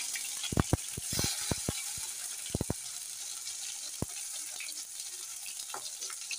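Tomatoes drop into hot oil with panch phoron and whole dried red chillies, setting off a steady sizzle broken by a cluster of sharp spitting pops early on, then a few scattered crackles, close and fairly quiet.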